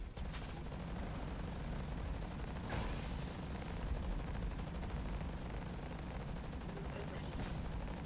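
Mech rifles fire in the video game Hawken in a continuous, dense rattle of gunfire that runs through the whole stretch. A few louder bursts stand out over the constant barrage.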